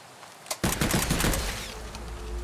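Rapid gunfire in the dino survival shooter Oooga Booga - Dino Survival: a quick burst of close, overlapping shots that rattles for about a second, then trails off into a lingering rumble.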